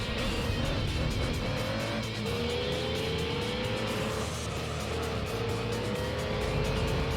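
A race car in Gran Turismo 3 roars steadily at high revs, with a rising and falling engine note as it shifts through gears, loud and continuous throughout.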